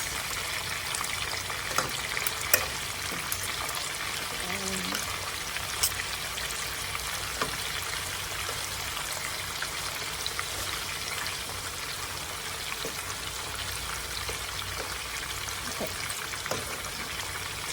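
Meatballs fry in a pan with a steady sizzle and crackle, broken by scattered sharp pops and a few light clinks throughout.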